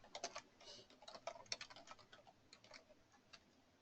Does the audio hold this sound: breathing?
no